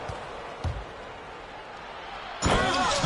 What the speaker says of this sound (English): Thompson slams it home